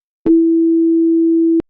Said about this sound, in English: a sine wave